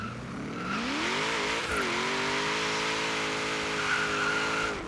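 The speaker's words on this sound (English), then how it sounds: "the car did spin like crazy from the beginning of that first gear and also that second gear" A 2014 Chevrolet SS in Forza Horizon 3 launches down a drag strip with heavy wheelspin, its engine revving loud and rising through the gears over a steady squealing tire hiss, no voices.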